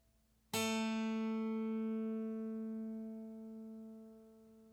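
A single guitar string, tuned down from B to A, is plucked once and rings out clearly, its sustained tone slowly fading over a few seconds.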